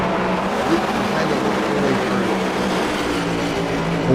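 Stock cars roar through turn one at Langley Speedway during a league clash, engines droning loudly and steadily with a continuous mixed rumble of the field, under an announcer's commentary.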